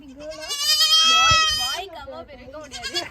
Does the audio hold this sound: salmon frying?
no